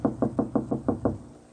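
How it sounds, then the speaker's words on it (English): A knock at a door in an old-time radio crime drama, seven quick, evenly spaced raps, close and clear, then silence. "Suddenly, the girl straightens, but it is not his knock."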